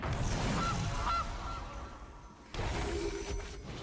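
Geese honk in the Magic Arena card game, a couple of clear nasal honks early on followed by a second burst of game effects, fairly loud and with no talking over them.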